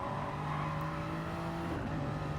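Race cars from a Gr3 racing video game battling three abreast, engines droning steadily and close together with sustained revving and no pauses.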